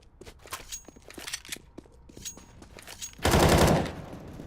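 Pistol and rifle fire crackles through a Counter-Strike match in rapid single shots and short bursts, followed by a loud, dense volley near the end, with faint footsteps between.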